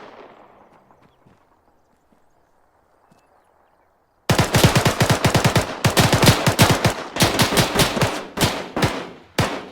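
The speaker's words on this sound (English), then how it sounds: "There's shots coming from inside the building here." Arma 3 combat gunfire coming from inside a building: after a few seconds of quiet distant rumble, loud rapid automatic bursts break out and continue in uneven clusters of shots.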